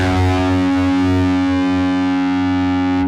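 F sharp note on a heavily distorted six-string guitar tuned way down, a single thick, buzzing note sustained for about three seconds at strong, even volume before stopping abruptly, with no talking.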